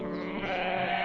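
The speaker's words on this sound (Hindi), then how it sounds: "बाकी आवाज एकदम बकरी जैसन रहे" A goat bleats in one sustained, wavering cry that is loud and close, heard alone without any talk.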